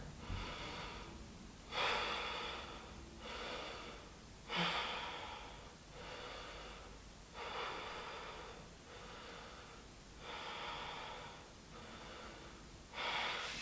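Someone holding a yoga pose takes about five deep, even breaths, each a close, breathy whoosh followed by a brief quiet gap, in a slow regular rhythm.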